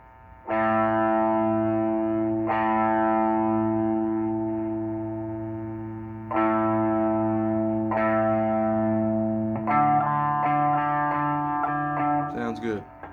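Open A string on an electric guitar, plucked several times for tuning through distortion and effects, each note ringing out long and steady at close range, then changing to another pitch toward the end.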